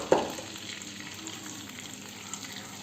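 Bulgur with tomato paste is stirred in a hot pan with a soft, steady sizzle, and a spoon scrapes once sharply at the start.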